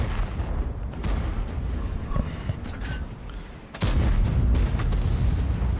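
A tank cannon shot in World of Tanks, a loud boom near the four-second mark followed by rumbling, after a stretch of steady engine and battle noise.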